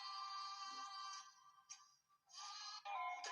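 A Nokia 3310 mobile phone ringtone plays a bright, beeping electronic melody in short phrases separated by brief gaps. It is fairly loud and clear, with no talking.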